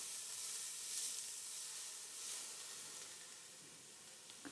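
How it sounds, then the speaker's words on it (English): Chopped celery and onion cooking in a pan until translucent for a copycat baked chicken recipe, giving a soft, steady sizzle and hiss that swells and fades slightly, close by, with no talking. "I'm just going to cook these till they get translucent."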